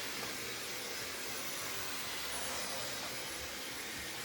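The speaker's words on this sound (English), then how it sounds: "This blow drying's killing me already." A hair dryer blows on a woman's layered bob during a salon haircut, a steady, even hiss of rushing air that holds unbroken throughout, fairly faint, with no talk over it.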